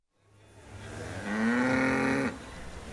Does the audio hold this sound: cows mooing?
yes